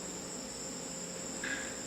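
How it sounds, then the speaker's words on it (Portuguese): Crickets chirp in a steady, continuous high trill outdoors beside an ecological solar house near a creek, with an extra cricket voice briefly joining near the end; no one speaks. "vocês podem escutar os grilos"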